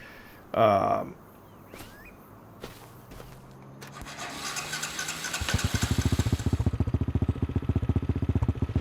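Motorcycle engine in Farming Simulator 25 starts up and settles into a steady, rapid idle putter, loud and close, with footstep-like clatter and a brief rustle before it.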